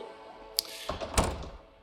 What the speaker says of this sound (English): I'm closing my door.